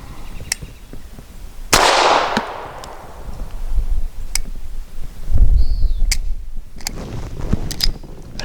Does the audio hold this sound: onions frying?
no